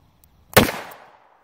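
A single sharp gunshot from a double-action-only revolver firing wadcutter ammunition, a loud close crack with a short decaying ring, alone in otherwise quiet surroundings.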